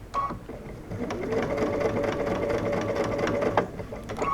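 A sewing machine stitches a bucket hat seam in one steady, close whirring run lasting several seconds, its motor humming evenly between a few brief clicks at the start and end.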